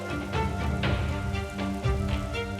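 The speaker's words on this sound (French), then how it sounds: "Comme un fait exprès, la pluie s'est invitée au programme." Rain falls steadily at Disneyland Paris at Christmas, a dense continuous patter on surfaces, close and fairly loud with no voices.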